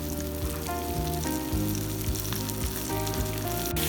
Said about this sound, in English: frying up, getting ready for the battered mushroom